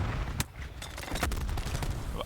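Grenade blasts and gunfire in a Call of Duty pro league match, a dense burst of shots and explosions filling the moment, with faint voices underneath.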